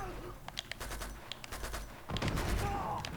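Gunfire in the video game Uncharted 2: Among Thieves during a tank fight, quick bursts of sharp shots scattered over a low rumbling background, growing louder and denser toward the end, no talking.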